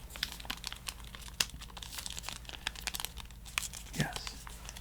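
Wonka chocolate bar wrapper crinkling and tearing up close, a run of crisp rustles and crackles with some louder snaps.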